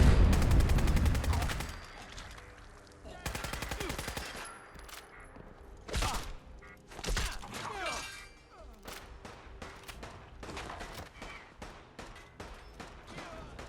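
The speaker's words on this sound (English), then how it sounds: "This was a 9mm open bolt submachine gun." A Sten Mark II 9mm open-bolt submachine gun in Fallout 4 fires several sharp automatic bursts separated by pauses, followed by scattered single reports and echoing tails, loud and up close.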